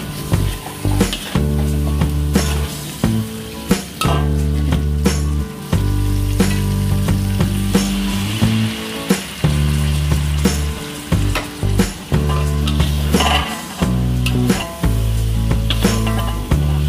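Fresh patin fish frying in a pot, a loud, continuous sizzle with frequent clinks and stirring knocks throughout, close up and with no talk.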